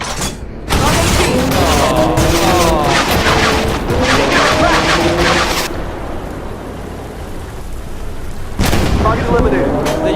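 Tank guns fire shells in the Armoured Warfare combat game, heavy booming blasts with rumbling mechanical battle noise, a loud sustained stretch, a quieter gap, then another blast.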